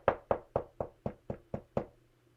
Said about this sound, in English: Notice that I knocked